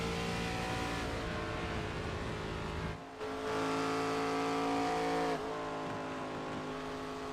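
Race cars in a sim racing game replay at the Brickyard, engines droning loud and steady with a brief dip as a car passes, then the high whine resuming.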